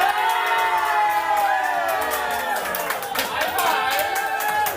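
A watch party crowd at a Top Chef episode erupts in a dense, loud mix of excited chatter, shouts and cheers, with scattered claps running the whole time.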